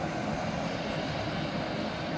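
A Dash 8 turboprop airliner engine drones steadily and loudly, a continuous broadband roar with a low rumbling throb that holds without break.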